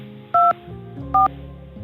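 Two short, sharp telephone keypad tones ring out on a call into a prison's automated phone line, spaced under a second apart, loud and clean over a faint low hum.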